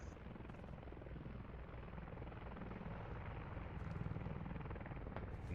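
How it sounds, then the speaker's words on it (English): A military helicopter in the game Squad, on the Gorodok map, thunders overhead with steady, loud rotor chop and engine roar that swells slightly toward the end, with no talking. "Chopper on top of shipping yard 4-7."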